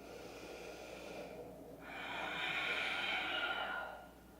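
Deep breathing during yoga practice, a long slow inhale followed by a fuller, louder exhale, close and quiet with no talking.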